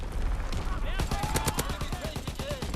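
Rapid automatic gunfire from Call of Duty WW2 multiplayer fires in a dense burst of sharp, evenly spaced shots, fairly close and loud, mixed with game sounds.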